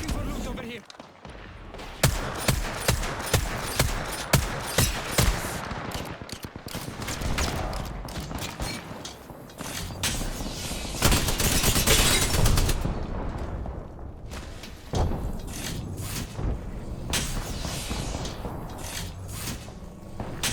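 Gunfire in Apex Legends during a collegiate league match, sustained rapid bursts of automatic weapon fire and single cracks in dense clusters, loud and near, with commentators talking over the shooting throughout.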